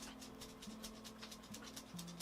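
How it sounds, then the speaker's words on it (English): A dog pants softly in rapid, steady breaths as it comes into a room, faint and close against a low background hum. "Sorry, here comes my dog."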